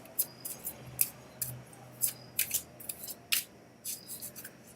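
Shuffling plays out as a string of crisp, papery rustling bursts, about a dozen short flicks at an uneven pace, close by and with no talk.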